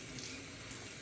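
Tap water runs steadily into a sink while something is rinsed and washed, a continuous close splashing hiss with no break and no talking.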